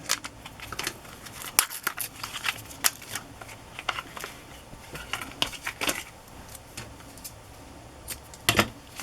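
Scissors snip away material near a ribbon on a handmade journal pocket, giving repeated close, crisp cuts in uneven bursts with quiet handling noise between them.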